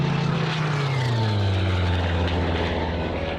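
A Spitfire Mk 14 with a 2,000-horsepower Griffon engine flies close by. Its loud, steady propeller drone dips in pitch as it passes, with no voices.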